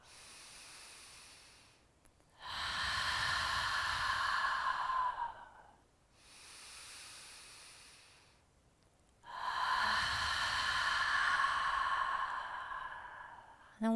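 Slow, deep breathing during prenatal yoga: soft nasal inhales alternate with two long, audible breathy exhales through the mouth, each lasting several seconds, close and unhurried with no talking.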